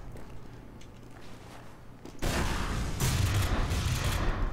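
Reserve Shooter shotgun in Team Fortress 2 firing in a game match, a sudden loud blast followed by sustained, dense gunfire-like noise with a second burst, close and loud with no talk.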